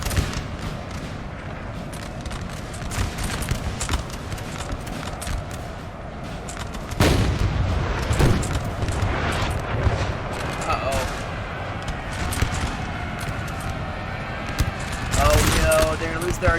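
Napoleonic-era battle in Napoleon Total War, a 4v4 match where French artillery pounds the enemy: dense, continuous volleys of gunfire and booming cannon shots roll across the field, with louder bursts near the middle and end, under a busy battle din.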